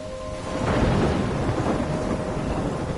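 Thunderstorm with rain in the game Life is Strange: a low rolling thunder rumble swells after half a second over a steady hiss of heavy rain that continues throughout.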